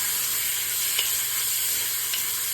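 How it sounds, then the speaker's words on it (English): Bacon frying over medium-high heat for zuppa toscana gives off a steady, close hissing sizzle with a couple of faint pops, no voices. "Now it's going to take a minute to get the bacon to get crispy."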